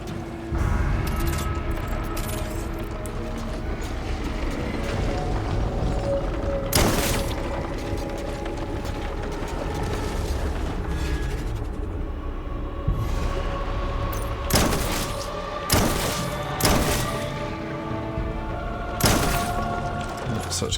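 Shotgun blasts in the video game Death Stranding, several sharp booming shots at irregular intervals over a busy game soundscape with mechanical clatter, loud and close.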